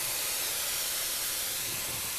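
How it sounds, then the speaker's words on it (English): Brandy thrown into a hot pan while cooking chicken, a loud continuous hiss and sizzle of steam and spray that stays even from start to finish. "Throw the brandy in."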